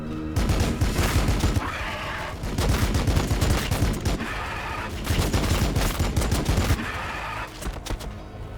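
Bursts of gunfire and explosive impacts in the Warhammer 40,000 strategy game Battlesector, with Blood Angels forces engaging the enemy, arriving in three dense, sustained volleys over a constant low battle rumble.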